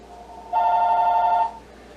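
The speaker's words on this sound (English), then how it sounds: "That's this house phone, excuse that. Somehow I knew that it was going to ring." A house telephone rings once in a quiet room, a single steady electronic trill lasting about a second before fading out.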